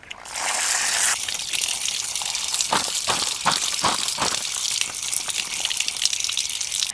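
Tap water gushes steadily into a sink while freshly picked ivy gourds are rinsed, with a few knocks and rattles of the gourds against the basin cutting through the continuous splashing flow.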